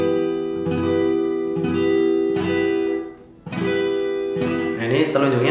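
Acoustic guitar barre chord with the index finger barring fret 7, strummed in four ringing strokes spaced about a second apart, followed by a brief pause and a fresh chord, close and clear with no talking.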